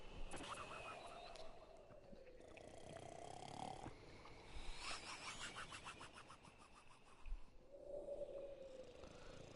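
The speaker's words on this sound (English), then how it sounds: "Ravier begins to snore." Ravier, a character in the video game Burly Men at Sea, snores in long droning, rasping breaths that rise and fall, with a game soundscape beneath.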